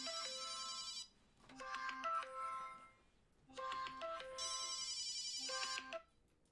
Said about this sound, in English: Didn't know I had phone calls that could ring up like that in the middle of a stream